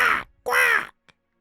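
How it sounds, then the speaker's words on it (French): A crow caws twice, two loud harsh calls close by, the second longer than the first, followed by a faint short click and then silence. "Parce que le corbeau se met à chanter."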